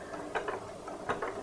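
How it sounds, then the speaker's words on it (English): A home sewing machine runs a short burst of stitches on a gingerbread man softie, with a quiet mechanical whirring and a couple of brighter ratcheting pulses as the needle cycles, no voices. "I'm just going to do a few stitches"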